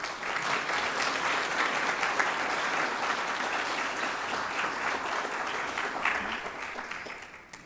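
Sustained audience applause welcoming a lecturer to the podium at an architecture lecture series, a dense wash of clapping from a large crowd that holds steady for several seconds before tapering off at the end.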